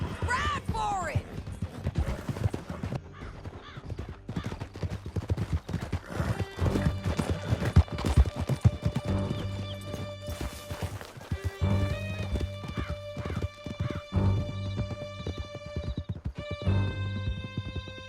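Horses gallop in Red Dead Redemption 2 during a bounty hunt through a canyon, with steady, close clip-clop hoofbeats, snorts and a whinny. Several voices shout over the hooves, and music rises in the background.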